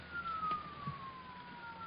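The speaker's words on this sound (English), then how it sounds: "Those are police cars, Tony, coming here" Police car sirens approach in an old-time radio detective drama, a faint steady wailing tone gliding slowly downward and held throughout under low background hiss, with no talk over it.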